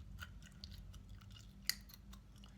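Scissors snip through the synthetic hair of a wig on a mannequin, one sharp close cut standing out over quiet, soft chewing.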